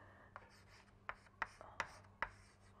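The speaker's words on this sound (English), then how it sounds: "let me write this down." Chalk or marker strokes on a lecture board, a series of short sharp taps and scrapes spaced irregularly, fairly close in a quiet room with a low steady hum behind.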